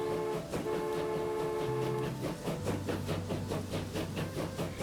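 A locomotive in a transportation tycoon video game runs with a steady, rhythmic rail clatter under sustained horn-like tonal notes, loud and continuous throughout.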